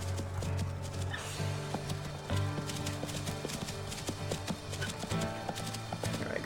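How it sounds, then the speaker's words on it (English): Elk calf hooves clatter in a quick run over the player in the wolf game WolfQuest, a rapid clip-clop of knocks over a steady background drone. "That moment when you get run over by a calf."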